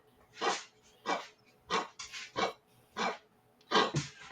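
A puppy makes a series of short, rough barking or huffing noises, about eight bursts spaced roughly half a second apart, close and fairly loud.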